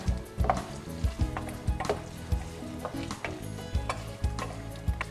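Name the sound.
potatoes browning in a pan with parsley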